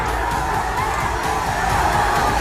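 An agitated crowd shouts and cheers continuously outside a gurdwara in Nanded during a Hola Mohalla procession, a dense, steady roar with no pauses.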